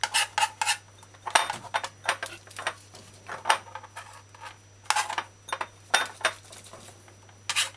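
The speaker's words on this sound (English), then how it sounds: "just put it on a flat surface and crush it to puree" Garlic crushed to a puree on a flat kitchen surface for an oxtail brown stew, heard as a run of sharp clicking and tapping knocks in irregular bursts, close up, with a steady low hum underneath and no talking.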